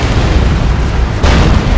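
A heavy, booming explosion from the Emperor's Wrath ability in a Warhammer 40,000 battle game, a loud dense rumble with a second surge of blast noise partway through, no voices.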